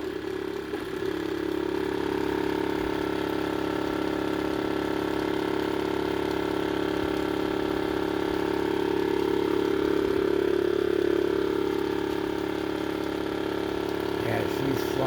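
A 3D printed brushless DC motor spins at speed, giving a steady, loud, tonal whine and hum that holds nearly constant for the whole stretch, with a faint voice mixed in.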